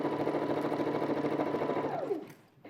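A sewing machine runs at full speed stitching fabric in a dense, fast mechanical whir, then winds down with a falling pitch and stops near the end.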